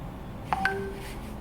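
Two short bright electronic pings ring out close together, followed by a sustained tone, alone over faint room noise: a WhatsApp notification alert on a phone.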